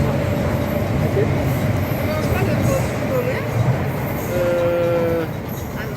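An Istanbul metro train rumbles steadily close by, wheels droning with a brief high squeal of brakes or rails, while voices talk over the noise.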